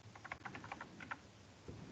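Someone types in Vim on a computer keyboard. A quick run of soft, close key clicks is followed by a pause and one heavier key tap, all faint and alone.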